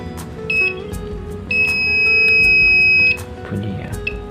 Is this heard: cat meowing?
no